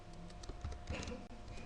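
Someone types an ID number on a computer keyboard, the soft clicks faint and quick over a steady background hum, with no voices.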